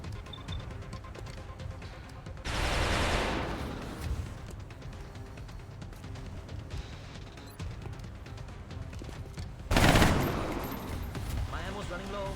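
Gunfire in XCOM: Enemy Unknown comes as two loud bursts of rattling shots a few seconds apart over a busy game soundscape, with people talking at times.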